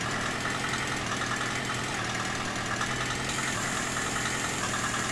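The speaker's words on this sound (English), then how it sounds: "Release some of that pressure off the engine." A heavy snow-clearing machine's diesel engine runs steadily at idle, a loud, constant low rumble with a mechanical drone and no break in the sound, and no one talking.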